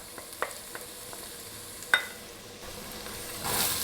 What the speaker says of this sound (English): So I'm going to put in the onion. I'm going to put in the garlic